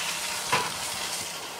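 A suckling veal chop sears in a hot pan, giving a steady broadband sizzle with a brief louder crackle partway through, alone and close.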